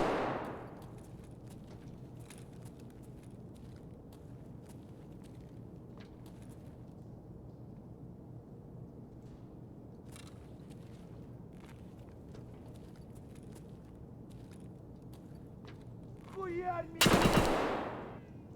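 Gunfire in the video game Escape From Tarkov, with a few faint scattered shots over a steady low background, then one loud, close burst near the end.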